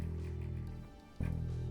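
Low note on a vintage bass guitar's E string, buzzing and rattling as it sustains, cut by a brief gap before another low note is struck and rings on.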